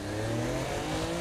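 A sports car in Saints Row: The Third drives with a steady, continuous engine drone and revving hum, fairly loud and close throughout the short moment.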